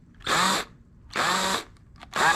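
Three bursts of a 1/2-inch power drill biting into a workpiece on an FJ40 project, each lasting about a third of a second with short pauses between, loud and close with no one talking.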